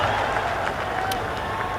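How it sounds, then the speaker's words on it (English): Big crowd noise fills a Bangladesh v England ODI ground as the bowler runs in, a steady roar with scattered cheers and whistles rising over it, and commentary carries on across the top. "much encouragement from the big crowd here today"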